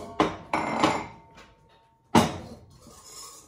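Plum cake batter is stirred in a bowl, with a few sharp clinks and knocks of utensil against bowl in separate bursts, close by.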